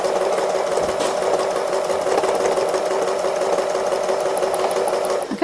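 A sewing machine does slow free-motion embroidery on an autumn owl wall hanging, moving back and forth. Its steady, fast stitching whir runs close and continuous with no pauses, then stops abruptly at the end.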